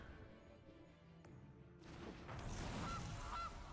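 A cartoonish goose honk from the Gilded Goose card in the digital card game Magic: The Gathering Arena, a brief honk over game sound effects that swell into a louder burst partway through.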